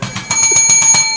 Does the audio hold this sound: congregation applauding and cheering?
no